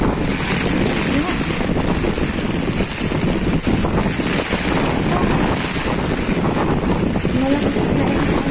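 Strong typhoon wind buffets the microphone on an island in Bicol, a dense continuous roar with gusty swells and rustling, loud and close, with a voice faintly in the mix.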